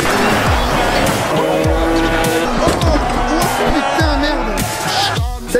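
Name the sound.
race car arriving at timing line, Trophée Andros ice racing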